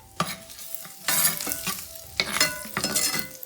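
Garlic stirred in a hot skillet with a metal spoon while it sizzles, steady frying hiss broken by several louder scraping stirs, close and alone.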